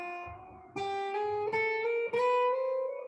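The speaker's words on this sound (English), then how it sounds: "if you just drag your finger, it kind of sounds like this." A finger drags along the frets of a Gibson SG electric guitar, producing a few stepped pitch jumps in quick succession, each a fresh bright note sliding slightly higher, clear and unaccompanied.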